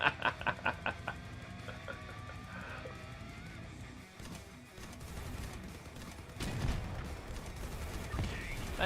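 Video game gunfire while shooting at enemies: a quick burst of rapid shots at the start, then a dense, continuous wash of battle noise with more bursts later, loud and busy.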